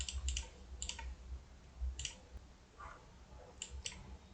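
Mouse clicks on a computer, a few sharp, close double clicks spread at irregular intervals over a quiet low hum, with no talk.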